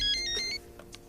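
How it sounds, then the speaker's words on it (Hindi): A mobile phone rings briefly with a short electronic tone pattern, moderately loud, then falls away to quiet room noise. "ये फ़ोन बज रहा है आपका जी"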